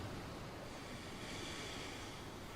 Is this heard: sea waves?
yes